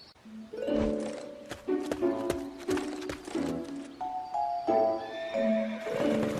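A horse whinnies and neighs repeatedly, its hooves clip-clopping as the king's guards ride off, loud and close with a faint bird coo in the background.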